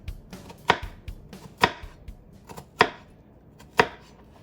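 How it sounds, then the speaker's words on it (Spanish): Knife chopping through an onion lengthwise on a cutting board, four or five sharp, evenly spaced cuts landing about once a second, close and clear with a faint background hum and no talking. "tomamos la cebolla de esta manera así y hacemos cortes a lo largo"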